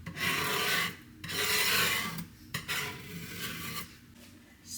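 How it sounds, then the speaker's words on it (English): Paint is scraped off a surface in an apartment with long, harsh rasping strokes, four or five passes separated by brief pauses, close and fairly loud with no talk. "why am I scraping the paint off?"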